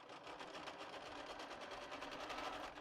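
A sewing machine test-stitching a wide zigzag on a T-shirt, running with a fast, even rhythmic whir and needle clatter, close and moderately quiet, alone.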